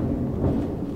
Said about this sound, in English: I apologize for the thunder. Apparently we're having our first thunderstorm of the year in Colorado.